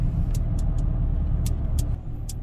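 A 2007 GMC Sierra pickup truck rolls along with a low, steady engine and road rumble from inside the cab, broken by a few short high clicks.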